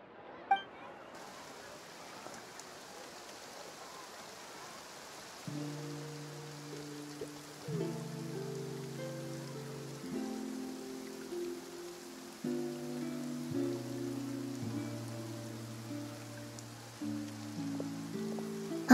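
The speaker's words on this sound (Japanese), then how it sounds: "雨が降ってきたみたい。" Rain begins falling in the video game Genshin Impact, a soft steady patter of drops running under bright layered game music, staying gentle and continuous throughout with no voices.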